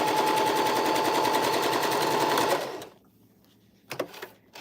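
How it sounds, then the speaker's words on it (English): A sewing machine runs steadily for a few back stitches on a bucket hat, loud and continuous with a rapid mechanical whir, then stops abruptly, followed by quiet and a few small clicks. "Give a couple back stitches."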